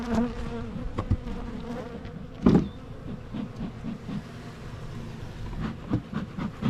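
Honeybees from a new swarm in a hive buzz steadily and close by, a continuous drone with occasional louder passes and faint knocks.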